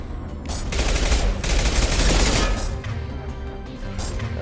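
Shotgun fire from the video game Mass Effect 2 sounds as a dense, loud burst of overlapping blasts and crashes that swells through the middle and fades into a rough rumble, with no voice over it.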